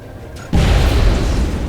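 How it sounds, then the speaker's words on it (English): After a brief quiet moment, a heat grenade in the video game XCOM detonates in a loud, deep boom that rumbles on as a sustained low roar. "So we'll stick a nice little heat grenade right there"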